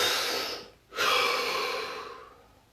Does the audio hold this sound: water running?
no